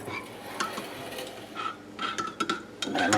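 A spoon stirs a chocolate covered cherry coffee in a cup, giving light scraping swirls and a few sharp clinks against the sides, close and fairly quiet, with a louder burst near the end.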